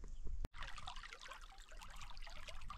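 Water trickles and gurgles steadily at a stream crossing in winter woods, a soft close babble after one sharp click at the start.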